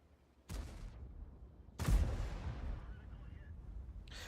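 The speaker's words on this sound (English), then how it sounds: "Still firing HE rounds, doing a decent amount of damage" Tank cannon firing HE rounds in World of Tanks, two sharp heavy booms about a second apart, the second louder, each trailing off into a rolling decay.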